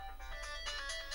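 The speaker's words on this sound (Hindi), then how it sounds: "संभव है घर से फोन आ रहा होगा" A mobile phone ringtone chimes faintly in a room, a short repeating electronic melody pulsing a few times at low volume.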